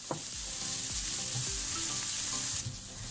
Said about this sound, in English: We're going to heat up our garlic for just a little bit, and then we'll be adding in the onions, and we're going to cook that for a couple of minutes.